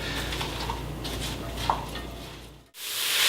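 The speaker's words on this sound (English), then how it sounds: "This whole process will take you a good 45 minutes or so to get these onions cooked down" Onions cooking down in a pan for French onion soup give a steady, low sizzle with soft stirring scrapes, a brief clink near the middle and a sudden cut to a brighter hiss near the end.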